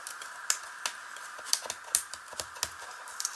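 Tape being peeled from the sides of a gift box, heard as a quiet series of short, sharp ticks and crackles spaced irregularly, close up with a steady faint background hiss.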